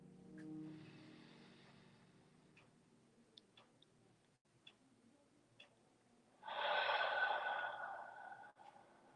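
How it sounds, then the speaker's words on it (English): Slow, deep breaths during a calm guided breathing exercise, a soft inhale at the start, then a long, louder exhale near the end, with faint ticking clicks in the quiet between. "Let's just do 3 more in and out breaths."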